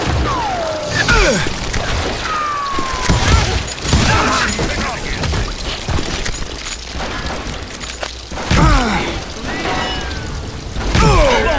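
Rapid gunfire in the Call of Juarez video game, dense bursts of shots and impacts with clattering mechanisms, loud and near throughout, some whooshing ricochets, with game voices talking over parts.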